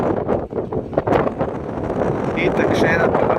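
Strong seaside wind buffets the microphone on the exposed windy side by a lighthouse and sea wall at Bonifacio, France, a gusty rumbling roar that persists with a person talking over it.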